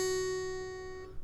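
A guitar's high E string fretted at the 2nd fret, plucked once and sustaining as a bright, clear single tone that decays softly, heard close with no talking.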